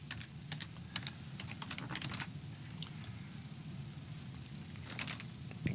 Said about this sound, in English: Now just start typing.